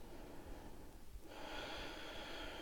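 A deep inhale during a gentle morning yoga practice, a faint airy breath drawn through the nose that swells into a steady hiss, close and quiet with no talking.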